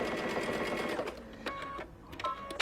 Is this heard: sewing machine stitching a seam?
yes